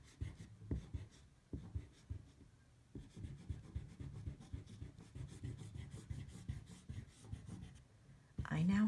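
A pencil moves lightly over paper in soft, quiet scratching strokes, with a few brief pauses between the lines and a louder noise at the very end.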